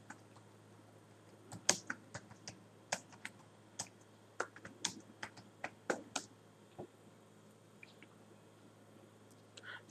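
Keys on a computer keyboard clatter in irregular bursts of crisp taps and short runs over a quiet room hum, close and fairly soft with brief pauses between strokes.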